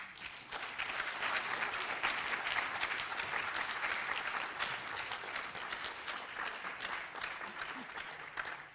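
An audience applauds warmly to welcome a speaker at an evening tribute event, steady clapping from a crowd throughout, moderately distant, with no voices over it.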